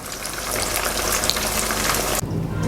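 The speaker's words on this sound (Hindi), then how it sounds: "इसी तरह सारी मछली को मैं फ्राई कर लूँगी" Fish pieces frying in plenty of hot ghee, a loud, steady crackling sizzle that runs continuously, then briefly dips and resumes with a lower bubbling tone near the end.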